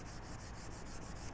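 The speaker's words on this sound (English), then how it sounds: "you can sand these up" Sanding strokes across the face of a metalworking hammer, a steady close scratchy rubbing repeated in quick even passes with no talk.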